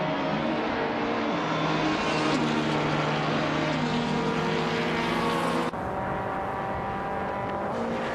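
Race cars in a racing game, including a 2006 Peugeot 308, roar steadily with engine notes shifting pitch as they jostle closely, an abrupt change in the mix about two-thirds through, and no voices.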